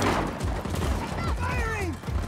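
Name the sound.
gunfire in the video game Just Cause 4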